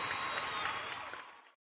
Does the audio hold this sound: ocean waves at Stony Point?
no